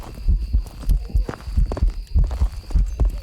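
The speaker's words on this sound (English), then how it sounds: "what is wrong with the heartbeat sound?" Heartbeat sound effect from the video game Phasmophobia, a steady throbbing double thump repeating about twice a second over a low hum, loud and close, with no talk.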